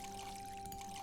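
Water pours over a plant in the video game Witchy Life Story as a brief, faint, steady splash.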